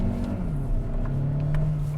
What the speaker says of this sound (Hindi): गाड़ी हम रिवर्स कर रहे हैं एंड लेट्स गो